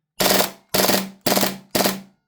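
An Airtac MP9 airsoft gun fitted with an HPA shot shell adapter fires four loud, close bursts at a steady rhythm, each a harsh rapid rattle lasting about a third of a second, separated by short silences.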